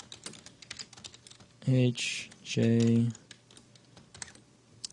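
Short bursts of computer keyboard keys being pressed, a few separate clacks set between a man's spoken letter names, close and fairly loud during input binding for a drum rhythm game.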